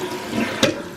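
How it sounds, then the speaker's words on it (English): A toilet flushes after its tank has been cleaned. Close rushing water churns for about a second, with a brief sharper gurgle partway through. "Let's go ahead and just give this a good old flush."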